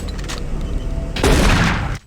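Shotgun fire in the video game Doom 3 BFG Edition, a loud close blast with a dense burst of impact noise and rumble after a tense mechanical background, ending abruptly.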